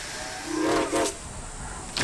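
A train in Poppy Playtime Chapter 2 lets out a rising hissing steam whistle with a sharp burst of steam, loud and close, fading into a steady hiss as it departs.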